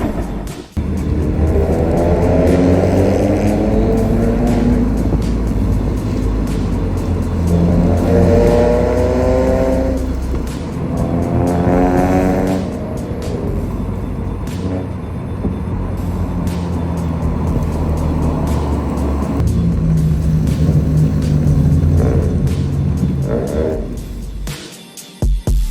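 A lowered Proton Persona Gen2 with a six-speed manual gearbox revs repeatedly, the engine rising in pitch in several climbing sweeps before dropping back. It is loud and close, with a voice talking over parts of it.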